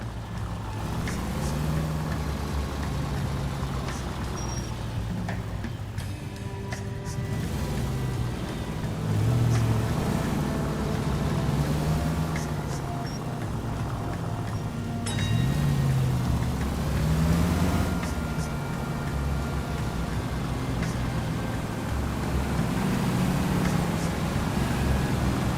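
A car driving in the video game L.A. Noire, a steady low engine drone with rising and falling revs through the drive, persistent and fairly close, with faint incidental noises over it.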